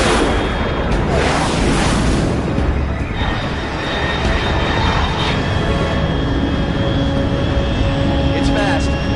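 A fast aircraft roars overhead in Metal Gear Solid Delta as a loud, continuous, broadband rush that fills the scene, with steady game ambience beneath and no break in the noise.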